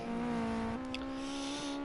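A GT race car in a sim racing game crosses the finish line at Snetterton, its engine holding a steady tone with a brief gear shift, loud and continuous with no voices.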